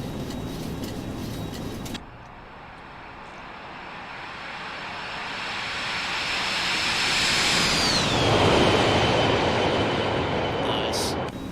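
Boeing 737-200 Classic engines in the X-Plane flight simulator spooling up to climb thrust, a steady broadband roar with a high whine that swells, then the whine slides down in pitch.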